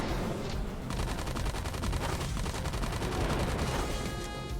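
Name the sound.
assault rifle gunfire in Super Robot Wars V video game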